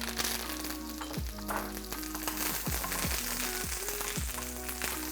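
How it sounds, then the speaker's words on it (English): Chicken frying in a pan with oil, a steady sizzle broken by a few scraping stirs of a spoon against the pan, close and constant. "We'll saute it for a few minutes till the color starts changing"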